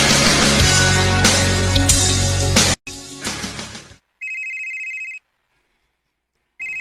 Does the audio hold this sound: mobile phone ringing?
yes